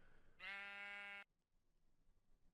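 A single Minecraft sheep gives one clear, wavering bleat, close and fairly loud, lasting under a second against a quiet background.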